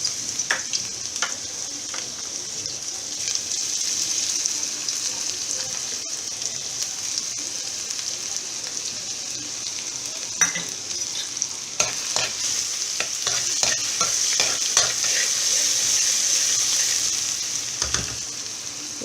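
Ginger garlic paste fries in hot oil with a steady bright sizzle and crackle, broken by scattered pops and clicks of stirring, close and continuous with nobody speaking.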